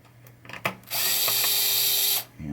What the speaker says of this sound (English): First thing we're going to do is take these screws out for the